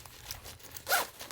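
A double-zipper packing cube being zipped shut, a short, close, bright zipping rasp near the end after faint fabric handling, with no talk.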